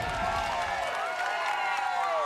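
A massive roadside crowd cheers as a rider leans into a corner during Stage 1 of the 2007 Tour de France, London to Canterbury: dense, continuous cheering and clapping, loud and close.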